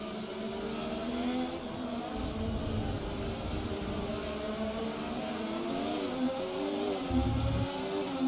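Ferrari race car in a racing video game, its engine droning steadily at high revs around the track, with pitch shifts through gear changes and other cars faintly mixed in.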